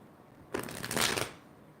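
Tarot cards shuffled by hand in one quick riffling burst of crisp, papery flutter lasting under a second, close and clear against a quiet room.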